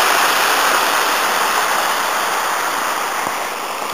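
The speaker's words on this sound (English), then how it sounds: "These little tumbling streams are always a nice feature for these mountain walks." A small mountain stream tumbling over rocks at Llyn Idwal, giving a steady, close, broadband rush of water that stays constant throughout.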